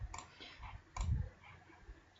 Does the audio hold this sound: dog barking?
no